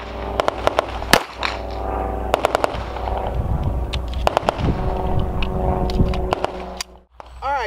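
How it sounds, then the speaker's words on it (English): Sharp gunshot cracks from a .45 pistol fired at close range, several loud impulsive bangs spread across the clip over a steady low rumble, with no voices. "Ryan just put one round of 45 from his 1911, shot distance of 5 yards"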